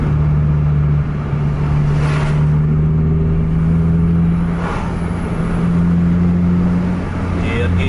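Buses racing each other down a road, their mid-pitched engines droning loudly and steadily throughout, with another vehicle approaching from the opposite direction partway through.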